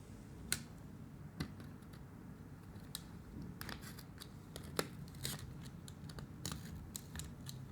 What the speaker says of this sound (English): with a razor blade, you can go ahead and cut around it